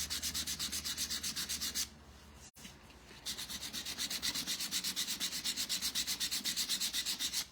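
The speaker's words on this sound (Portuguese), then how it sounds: "as bordas com essa lixa, que é um pouco mais grossa, número 100 a gramatura, para desgastar" Coarse 100-grit sandpaper rubbed back and forth along the edges of a small wooden house, a steady rhythmic rasping close up with a brief pause midway before the strokes resume.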